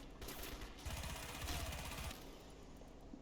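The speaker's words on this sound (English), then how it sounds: "We've got the minigun." A minigun fires continuously in the video game Crysis, a dense, rapid rattling burst over a steady noisy background, with no talking.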